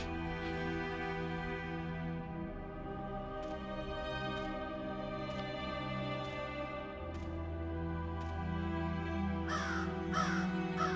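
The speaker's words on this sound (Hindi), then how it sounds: "कौए काएं काएं कर रहे हैं और ग्रेवयार्ड है।" Several crows caw in short bursts over a dark, droning ambient bed in a horror video game's graveyard scene set in December 1995, the calls spaced out and moderately close, with a few clustered near the end.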